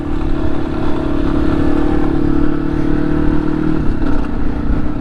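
A Yamaha XT250 or Honda CRF300L dual-sport motorcycle runs steadily on a dirt trail, its engine drone loud and close with constant clatter and scraping from the rough ground throughout.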